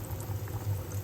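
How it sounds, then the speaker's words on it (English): Gluten-free Marks & Spencer spaghetti boils in a pot with a steady low bubbling and gentle rolling simmer, fairly quiet and continuous with no voices. "So I'm cooking my pasta noodles."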